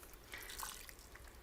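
Vegetable broth from a 32-ounce container poured into a crock pot, a faint, steady liquid splashing and trickling for a moment, quiet and close with no voices.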